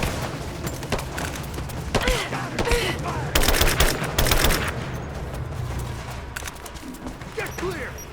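Gunfire in the video game Rise of the Tomb Raider, rapid bursts of automatic fire and sharp shots crackling close and loud in dense volleys, with voices calling out amid the firefight.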